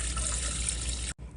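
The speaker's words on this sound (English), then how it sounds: "Rinse the rice, and then I put it in here, and I have to add 19 ounces of water." A steady stream of water pours into a rice cooker pot holding rinsed rice, a continuous rushing splash that cuts off abruptly near the end.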